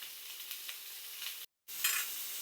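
Ayila (mackerel) fish fry in a pan with a continuous, close hissing sizzle that cuts out briefly for a moment, then returns slightly louder, with no talking.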